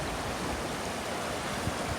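River water rushing near a waterfall beneath a bridge in Japan, a steady, dense wash of flowing noise with no breaks and no voices.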